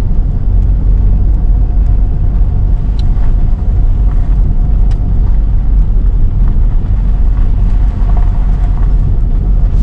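A car rolls slowly along a narrow countryside road dropping off a ridge into a hollow, producing a loud, steady low rumble of engine and tyres with a rough, bouncing texture and no talk.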